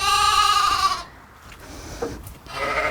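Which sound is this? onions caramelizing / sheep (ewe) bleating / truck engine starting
sheep (ewe) bleating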